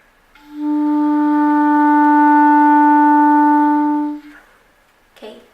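One clarinet note E held steadily for several seconds, bright and solo, ending cleanly followed by a faint click.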